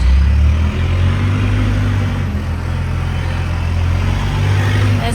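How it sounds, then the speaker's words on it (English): Silage buckraker farm vehicle engine running loud and close, a steady low rumble with a brief dip near the start, no voices. "let's get this flipping vehicle started"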